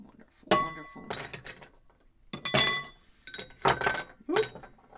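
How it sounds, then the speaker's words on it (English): Ice cubes clink and clatter into a mixing glass while a cocktail is being made, in four separate bursts of bright glassy knocks. "Now we'll get our ice down into our mixing glass."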